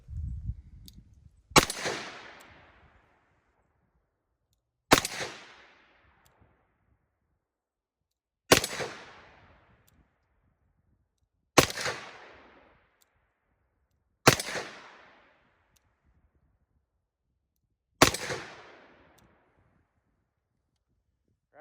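A 2020 Colt Python revolver fires six loud, sharp shots in slow double action, evenly spaced about three seconds apart, each with a short fading echo.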